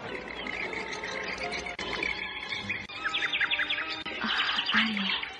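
A bird chirps and tweets from high in a treetop, with repeated bright calls and short trills running continuously over a faint outdoor background, with no one speaking.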